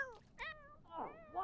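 A pet raccoon cat in The Sims gives a few short high meows and chirps close by, with small pauses between the calls.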